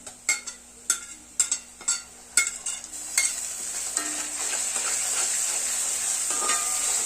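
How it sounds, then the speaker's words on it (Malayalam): Ginger garlic paste goes into a pan of fried onions, with several sharp spoon taps and scrapes at the start, followed by a steady, close sizzle as it sautés. "ഓണിയൻ ഫ്രൈ ആയി കഴിഞ്ഞ് നമുക്ക് ഇനി ജിഞ്ചർ ഗാർലിക് പേസ്റ്റ് ഇടാം."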